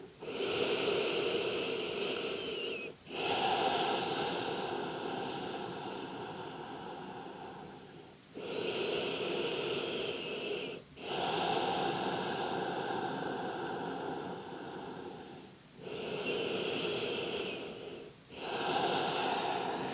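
Slow, deep breaths during a yin yoga hip stretch, each long airy inhale and exhale rising and falling in a steady rhythm, close and clear with no talking.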